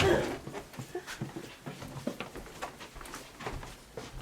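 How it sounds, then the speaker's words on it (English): A heavy dog named Barney pants and whimpers close by, with soft breathy huffs and small whines in an irregular rhythm over a quiet indoor background. "So let's go and see Barney. This dog's heavy."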